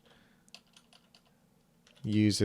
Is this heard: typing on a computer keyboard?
yes